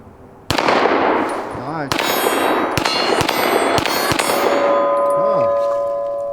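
Pistol shots fired at steel gong and plastic bottle targets, a series of sharp cracks with ringing metallic clangs, spaced unevenly over several seconds, with a brief spoken comment.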